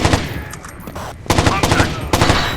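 Rapid automatic gunfire in the Xbox game Rainbow Six 3 Black Arrow, loud close bursts broken by a brief pause, then resuming in dense rattling volleys.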